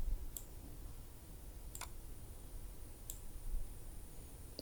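A computer mouse clicking four times at uneven intervals during image editing: sharp, faint, isolated ticks over a quiet background hiss.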